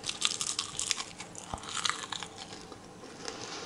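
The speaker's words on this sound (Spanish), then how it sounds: "Y mira cómo cruje." Crispy cooked cabbage crunches as it is bitten and chewed, a close series of sharp brittle crackles with no voices.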